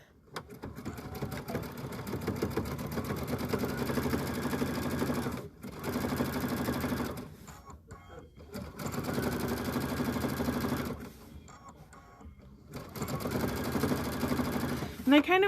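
A sewing machine stitching a placemat runs in long, fast, continuous bursts, stopping briefly between sections before starting again, close and steady.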